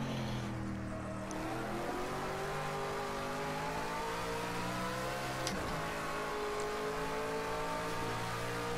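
Simulated BMW Z4 engine on a lap of Dubai International in Project Cars 2, a steady, continuous drone with sliding pitch bands as it holds revs through a corner, with no voices.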